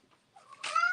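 A pet cat meows close by at the end, a rising, tonal cry that swells and holds after a few soft, faint sounds.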